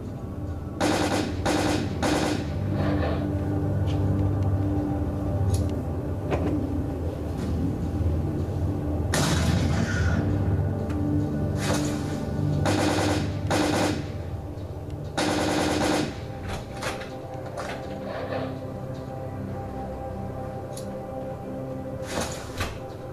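Bursts of video game gunfire ring out just outside a sewer pipe, rapid machine-gun volleys coming in repeated clusters across the stretch, with quieter gaps and clatter in between.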